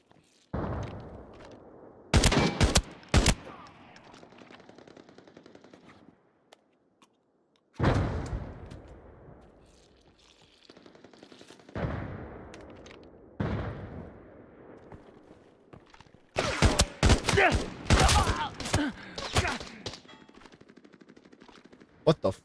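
Automatic and rapid gunfire in the shooter game Arena Breakout Infinite, with several loud bursts of shots separated by quieter stretches of ambient game sound and a little talk.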